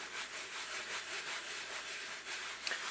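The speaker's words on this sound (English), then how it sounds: "You rub it in and you get a good deal of dirt from that." Soft, steady rubbing of a gum cleaner worked over a vintage Superman comic book page, a continuous close scratchy friction with gentle back-and-forth swells and no voices.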